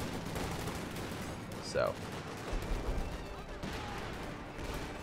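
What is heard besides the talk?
light artillery barrage in Company of Heroes 2 video game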